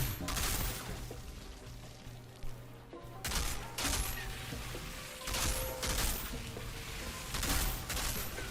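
Gunfire in the shooter Outriders, a fast run of rapid shots repeating in bursts over a steady game background, with no talk.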